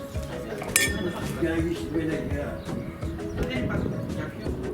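Glasses clink in a toast during a wine tasting on the Greek island of Santorini, with a bright chime near the start and lighter taps, all under close talking.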